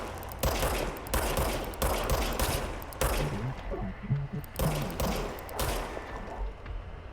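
Gunfire from a regenerating-ammo pistol in the video game Control, a string of loud, sharp shots in irregular bursts, each crack ringing out over a busy background of game sound.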